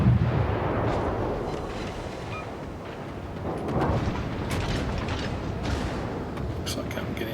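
Heavy naval gunfire from warships in World of Warships during a Halloween event: a dense, continuous rumble of booming salvos and explosions, with stronger blasts swelling around the middle, loud throughout.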